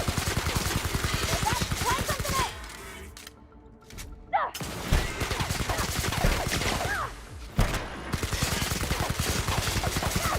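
Rapid weapon fire in The Outer Worlds, a sci-fi shooter game, with dense bursts of shots that pause briefly and then resume, plus occasional sharp impacts, all fairly loud.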